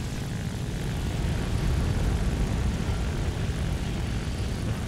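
Italian fighter plane's propeller engine roaring steadily at full power during a low, fast takeoff run in War Thunder, a dense continuous drone that fills the whole span with no talk over it.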